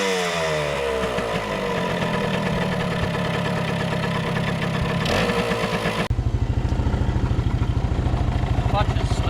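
A motorcycle with a slipping clutch revs unevenly, then settles into a loud, rapid, rhythmic chugging idle close by, with people talking over the engine.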